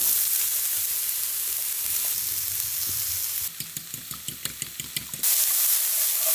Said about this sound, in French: Pendant que les œufs cuisent,